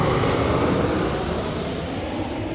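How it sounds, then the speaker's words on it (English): An airplane passes overhead as a loud, steady, broadband engine roar that fills the space evenly with no other sounds. "sorry, that was an airplane"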